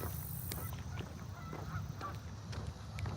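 Geese honk faintly in the distance near a park pond, scattered short calls over a steady outdoor background.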